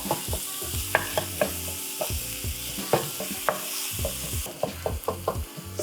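Lamb mincemeat being broken up and fried in a frying pan: a steady sizzle under repeated rhythmic scraping and tapping of a utensil against the pan, fairly close, with no talking.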